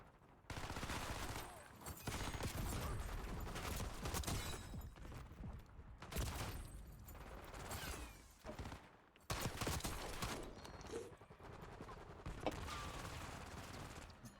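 Rapid bursts of gunfire crackle through a Black Ops 6 match, several clustered volleys of shots with mechanical clatter between them, fairly quiet in the mix, with no talking.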